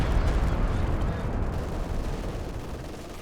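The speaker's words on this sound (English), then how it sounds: "Machine guns dueling on the sides" Machine guns trade fire in a Company of Heroes 2 battle, a dense continuous rattle of rapid shots with booming low-end impacts, loud throughout and slowly easing off over a few seconds.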